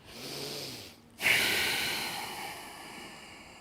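Breath during a yoga breathing exercise: a soft inhale, a brief pause, then a strong, close nasal exhale that hisses out and slowly trails off.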